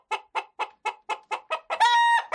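A chicken gives a run of sharp, evenly spaced clucks, then a longer drawn-out crowing call at the end, close and clear with no talk over it.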